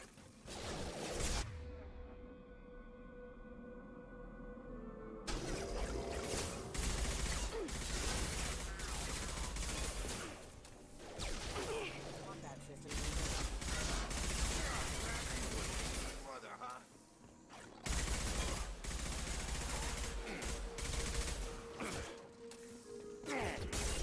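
Rapid gunfire from enemy hostiles in the sci-fi shooter Mass Effect 2 Legendary Edition, with dense bursts of shots, mechanical clatter and impacts running almost continuously, loud and close, with brief gaps and a voice talking over the combat.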